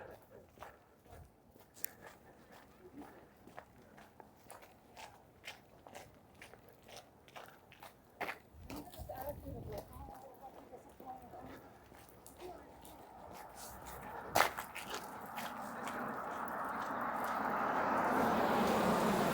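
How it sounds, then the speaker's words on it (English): Footsteps crunch on a salt-covered sidewalk along a freezing Toronto street in winter, a steady walking rhythm of gritty crunches with someone talking over them and traffic noise swelling toward the end. "Sorry for all the crunching. It's the sidewalk that's completely covered in salt."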